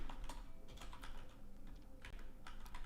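Rapid, uneven clicking of keys on a computer keyboard, heard up close and fairly quiet, with short bursts and brief pauses between strokes.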